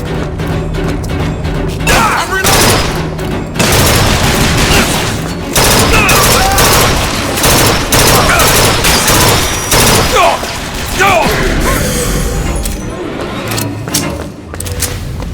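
Rapid bursts of automatic gunfire and crashing impacts in Bioshock Infinite, loud and continuous across the stretch, with shouted voices cutting in between the volleys.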